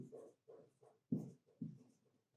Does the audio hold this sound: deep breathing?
no